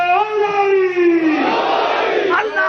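A single voice at a Shia majlis draws out the Naara-e-Haidari call, then a large congregation answers with a loud, massed roar of shouting voices that swells and holds.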